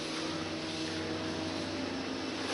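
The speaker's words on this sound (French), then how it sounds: "C'est uniquement le champ magnétique qui va faire tourner ce moteur." A magnetic-field Ace motor running on the floor, giving a steady, even mechanical hum and whir that holds constant throughout with no speech.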